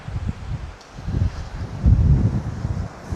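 Gusty wind buffets the microphone at a fishing spot beside sluice gates, a low rumbling roar that swells and eases in uneven surges, with no voices.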